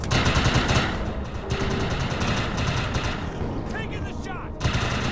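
Gunfire in the Defiance 2050 shooter game: loud bursts of rapid automatic shots in several volleys, separated by brief lulls, with mechanical and engine noise mixed in.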